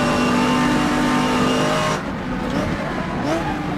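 A Porsche race car at Brands Hatch in a 1986 GT race screams past with a loud, steady high-revving engine note that drops away near the end, with commentary running over it.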